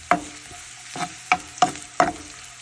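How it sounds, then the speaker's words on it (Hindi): Finely chopped onions sauté in a pan for Gobi Manchurian, with four or five distinct stirring scrapes and clatters over a low, steady sizzle, close up and with no voices. "उसके बाद बारीक कटी हुई प्याज डाल लेंगे, इसे अच्छे से सौटे कर लेंगे"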